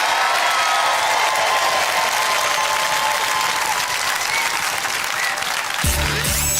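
A studio audience at a Robot Wars heat applauds for the robot Terahertz, broad steady clapping filling the whole stretch at close range, with a brief louder burst of cheering noise near the end.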